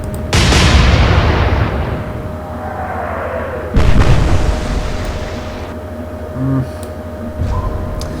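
Heavy naval guns firing in the warship game Atlantic Fleet, set in an alternate Battle of Jutland: a loud booming salvo with a long rolling decay, then a second big blast, with fainter thumps trailing after.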